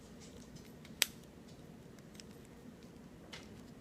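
A single sharp snip as wire ends are clipped while making a beaded keychain, a close, quiet click standing out over faint handling noise.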